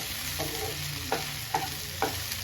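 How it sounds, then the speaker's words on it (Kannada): Sliced okra (ladies finger) frying slowly in a pan on a low flame, a steady soft sizzle broken by several distinct scraping stirs of a spatula, close up with no voices. "ಆವಾಗಲೇ ಚೆನ್ನಾಗಿ ಬೆಂಡೆಕಾಯಿ ಕೂಡ ಫ್ರೈ ಆಗೋದು."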